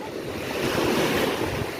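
Sea waves wash and break continuously at a summer beach, a loud, broad rushing surge that swells toward the middle, mixed with gusty wind buffeting the microphone.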